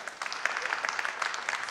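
Applause from a gathered audience joining in during a children's story reading, a steady even wash of clapping across the whole moment with no voices on top.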